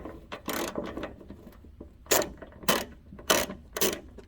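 A ratchet works nuts loose from the metal dash core of a Mopar E-body Dodge Challenger. It gives short bursts of rapid mechanical clicking, some louder and closer than others, with brief pauses between them.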